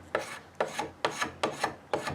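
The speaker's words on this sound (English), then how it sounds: "it shaves off the wood and the fiber so it's super smooth" A two-handed spokeshave pulls across wood to round it in five even, rhythmic strokes, each a close, dry rasping shave that swells and fades before a brief pause.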